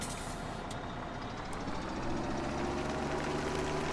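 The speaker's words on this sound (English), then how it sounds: "So we're going to switch to our other tractor" A tractor engine in the Farming Simulator 17 game runs loudly and steadily, with a low droning rumble and a rising tonal whine as it revs, and no one speaks over it.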